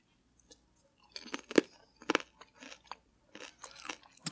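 Crunchy popcorn being chewed close up, a run of sharp crisp crunches and bites in irregular bursts with short pauses between, no talking.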